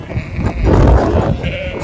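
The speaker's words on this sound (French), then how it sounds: "Des moutons qui attendent leur dose" Sheep waiting in a group give several overlapping bleats, fairly close and loud against a rough outdoor background, with no clear speech.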